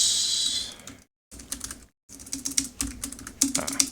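Clicking keystrokes on a computer keyboard, close and quiet, in uneven bursts separated by two short silent gaps.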